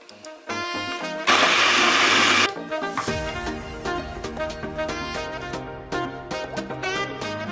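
Electric blender whirring loudly for about a second while mixing papaya with its seeds, followed by a stretch of plucked music-like tones.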